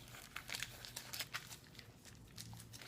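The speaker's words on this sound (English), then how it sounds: "take the tin foil, fold it over, just like this." Tin foil crinkles and rustles in close, quiet bursts as it is folded over a section of hair during a lowlight colouring job in a salon, with no talking.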